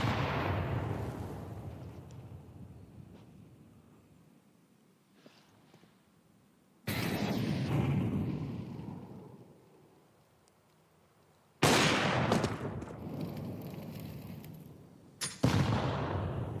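AWP sniper rifle shots in Counter-Strike, fired through smoke: three loud sharp blasts spaced several seconds apart, each decaying into a long echoing tail, with no talk.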